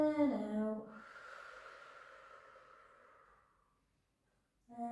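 A long, steady exhale during a pilates class trails off slowly into quiet after a brief voiced start, close and soft, with a voice returning at the very end.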